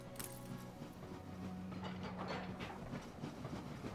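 A train pulls into a station in the city-building game Anno 1800, its rolling clatter and a steady low engine tone continuing at moderate volume over a busy background bed.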